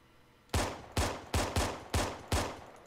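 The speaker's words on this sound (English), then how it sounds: "Maybe my pistol's just not strong enough to shoot through that window" Six sharp pistol shots ring out from a sci-fi sidearm in an Arma 3 Halo mod firefight, spaced irregularly over a few seconds, loud and close with quick decaying tails.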